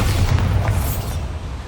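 A Bombarda blast spell going off in Hogwarts Legacy, a deep, booming explosive thud with a rumbling low-end tail that stays loud across the moment, no voices on top.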